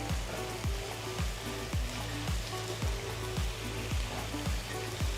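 Mushrooms fry in a pan with a constant bright sizzle, overlaid by a steady low rhythmic thumping pulse repeating roughly every half second.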